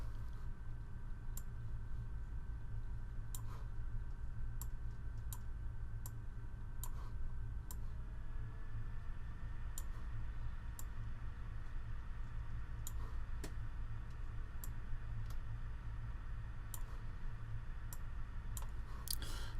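Sharp mouse clicks in StatCrunch, in irregular bursts of one to three, over a steady low hum with a faint tonal whine and no talking.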